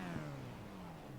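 A sim racing game car engine hums steadily, then climbs briefly in pitch as the driver accelerates, a faint, smooth whine with no voices.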